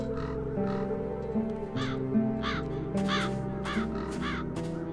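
Several crows caw in repeated harsh bursts over a sustained musical backdrop in The Dark Eye: Chains of Satinav, the calls coming in pairs and growing louder toward the end.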